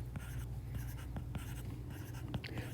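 Pen or marker writing out a mean absolute deviation calculation, with repeated scratchy strokes and short taps close by, steady and quiet, with no talking.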